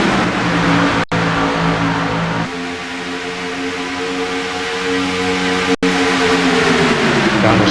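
Race cars running on a track, a steady loud engine drone with shifting pitch as cars pass and accelerate, heard continuously with two brief dropouts.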